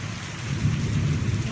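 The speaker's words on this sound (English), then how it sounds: "We do have a thunder rolling and a storm brewing today" Low, steady thunder rolls through a brewing storm with rain, a continuous deep rumble that swells slightly midway and holds at moderate loudness, with no voices.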